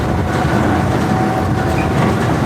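A train rolls along its rails with a steady, continuous rumble and a faint high whine, loud and close from inside the carriage.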